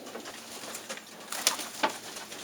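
Cock pigeon of a long-distance Sion racing strain cooing nearby in a loft, soft low coos repeating over a steady ambient hiss, with a couple of brief flutters or scuffs and no talking.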